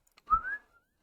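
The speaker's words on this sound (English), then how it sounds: "Oops, I whistled and my dog just got really excited." A single short whistle from a person indoors, a rising tone of under a second, close and fairly soft, standing alone with no talk.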